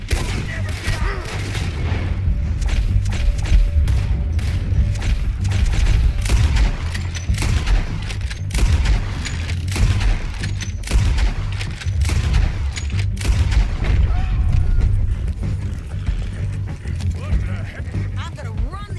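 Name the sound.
gunfire in the video game Red Dead Redemption 2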